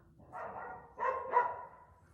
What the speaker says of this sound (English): There's courier drivers in the street and they're just woofing and carrying on like gooses